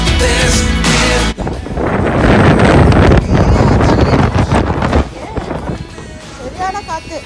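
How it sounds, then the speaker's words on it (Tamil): Strong wind gusts across a pebble beach on a fall road trip, roaring and buffeting the microphone loudly and continuously, with voices speaking under the rush. "இப்போ செமையாக காற்று அடிக்குது"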